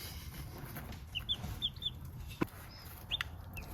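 Young chicks chirp and peep in short, scattered high calls while pecking at food, with faint soft taps and rustling underneath and one sharper click, all fairly quiet and close.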